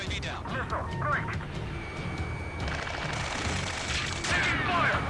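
Gunfire rattles in the Ace Combat 7 combat game, a dense, continuous fusillade of rapid shots and crackling impacts, loud and close, with voices calling out over the chaos.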